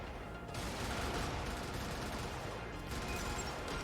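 A chassis-mounted machine gun on a vehicle in the video game Brigador fires a long, dense, continuous stream of rapid shots that stays loud and steady for nearly four seconds, with a brief dip near the start.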